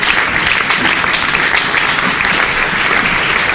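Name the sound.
congregation applauding and acclaiming the Lord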